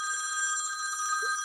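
A telephone rings continuously with a bright, steady electronic trill, loud and close, with almost no other sound.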